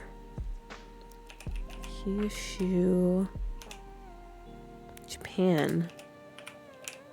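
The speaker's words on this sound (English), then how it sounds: "I'm typing with one hand, so please excuse me for my terrible typing right now." A computer keyboard typed on with one hand gives scattered, uneven clicks and taps while a person talks over them in a steady voice.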